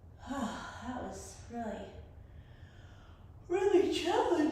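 A woman breathes and yawns audibly after an arm workout, drawn-out voiced exhalations with a sharp inhale, close and fairly quiet, a pause between the breathy sounds.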